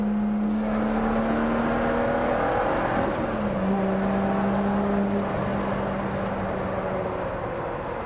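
A Lotus Evora Sport 410 drives past on a race track, its engine a steady loud drone that shifts pitch as it passes and then holds on, close and without any talk.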